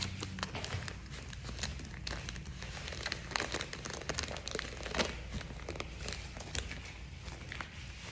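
A paint stencil is peeled straight back off a surface low and slow, giving a continuous close crinkling, tearing rustle with small crackles throughout, under a low steady room rumble.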